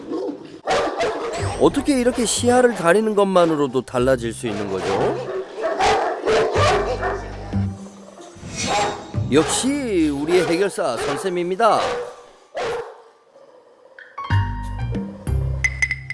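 Ovcharka dogs bark and howl intermittently, close and forceful, overlapping with people talking throughout, with a short quiet stretch before the barking resumes.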